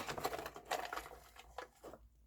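Paper slips for a schedule draw rustle and pat softly in a quick run of shuffling brushes that fades into quiet, with no one talking.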